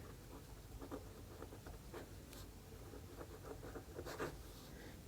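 Pen or chalk scratching out math equations in a lecture, a soft continuous patter of short strokes with brief pauses, faint and close, no voice over it.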